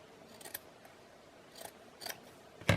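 Scissors make a few soft, separate snips cutting lace from a snippet roll, faint and close, ending in a sharper, louder cut.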